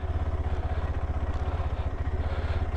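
A KTM 390 Adventure motorcycle chugs along at walking pace in first gear, its single-cylinder engine giving a steady, low, rhythmic thumping pulse close by, with no talking.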